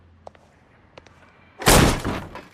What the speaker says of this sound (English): Don't bother knocking, just kick the door in.